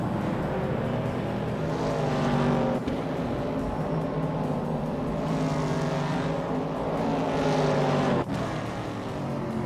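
Racing video game engine of a 1969 AMC Javelin race car droning loud and steady, with rising whooshes and two sharp clicks as gears shift, no voices over it.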